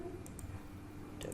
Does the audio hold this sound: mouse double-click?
yes